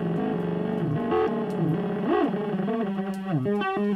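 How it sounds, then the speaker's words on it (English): Buzzy, distorted synth tone with shifting pitch and a harsh pulsing texture, sweeping up and down continuously over four seconds, from a sine wave and a triangle wave fed into an Animodule exclusive-OR module. "Now that's just a sine wave and a triangle wave going into the A and B of the Animodule exclusive OR."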